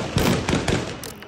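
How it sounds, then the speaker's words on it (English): Live gunfire at a street protest cracks out in several sharp, loud bursts spaced irregularly over about a second, each shot a broad percussive crack with a short decay. "These are live bullets which they're using against the innocent kids."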